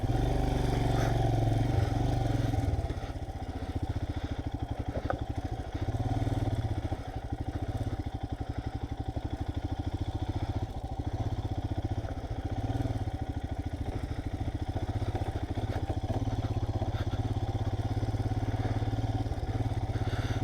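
Rented motorbike ridden off-road near a high-altitude village, its engine droning steadily and close with rough clattering bumps and shifting revs throughout.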